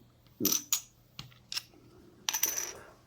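Dice for an Axis and Allies board game rattle and clack in several separate bursts against a hard surface, close and fairly loud, with quiet pauses between the throws.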